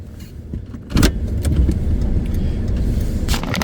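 A car pulls off on Park Avenue in Paterson, New Jersey, on a weekday morning. The engine and road rumble swell after a brief thump and then hold steady and close, with light jangling and clicks early on and no talk.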